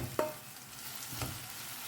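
Turmeric powder and Malvani masala are stirred into tomatoes frying in a pan for prawn masala, a faint scrape of the spoon over a soft, steady sizzle.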